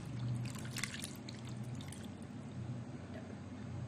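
Liquid pouring steadily from a full mug into a dish, a continuous close trickle and splash lasting several seconds with no talk over it.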